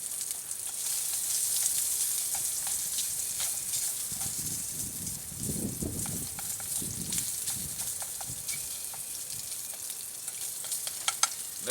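Spam sizzles and crackles in hot vegetable oil in a pan, a steady close frying hiss with scattered pops and a few soft stirring scrapes, no talking.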